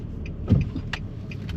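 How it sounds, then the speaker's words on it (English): A 2014 Nissan Frontier truck driving, a low steady road rumble inside the cab with a few brief clicks and bumps over it, no talk. "I just kind of wanted to take it for a drive to see how the truck did"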